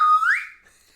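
A single sharp whistle blast, loud and near, rising briefly in pitch before quickly fading into silence.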